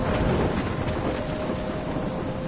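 Steady heavy rain pours in a thunderstorm in Life is Strange, a dense close hiss with a low rumbling undertone throughout.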